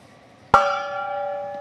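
A single big gong is struck once, giving a sharp metallic hit followed by a bright, sustained ringing tone that lingers and slowly fades, heard alone without speech.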